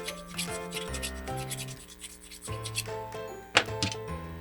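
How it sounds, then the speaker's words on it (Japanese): Scraping the inside of a metal upgrade part for a WPL C74 JA11 Jimny RC model, rubbed evenly all around: repeated close rasping strokes with scratchy friction, uneven in rhythm, ending on a sharp little scrape. "均等になるべくこう均等に内側を全部削ってあげると"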